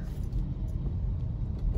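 Steady low road rumble of traffic on EDSA in Manila, heard from inside a sedan doing deliveries, a continuous dense engine and tyre drone with no voices.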